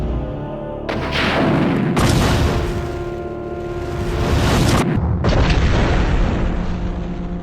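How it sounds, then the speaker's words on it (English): A projectile weapon in Resident Evil Survivor 2 – Code: Veronica detonates in a series of loud, heavy booms, with sustained roaring blasts and abrupt cutoffs, no voices. "if you miss your target, it instantly explodes"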